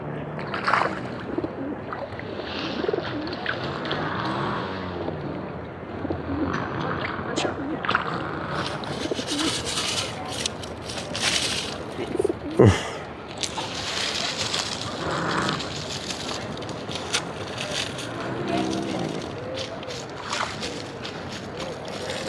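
Pigeons cooing at the Cabo Roig fishing harbour, soft repeated coos mixed with wing flaps and water lapping around boats, under steady nearby conversation and outdoor bustle.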